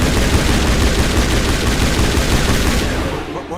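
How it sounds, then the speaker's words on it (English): Loud, continuous shotgun fire from the video game Mass Effect, a dense barrage of overlapping blasts that keeps up for most of the stretch before easing off near the end, with no talk. "I really thought this shotgun would be amazing."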